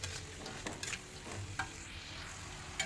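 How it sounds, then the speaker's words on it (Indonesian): Fried tempeh stirred through a reducing caramel sauce in a pan, with soft scraping and light sizzling, the spoon strokes coming in irregular bursts at close range. "Tinggal aduk-aduk sampai air kuahnya menyusut ya."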